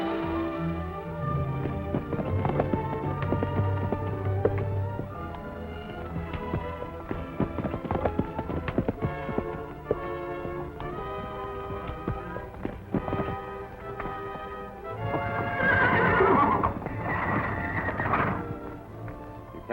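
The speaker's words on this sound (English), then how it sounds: "Try to pin those stallion up and get ready to turn Volcano loose" A stallion gallops with a steady clip-clop of hooves, then near the end lets out a loud, shrill neigh. The sound is fairly close and stands alone with no speech.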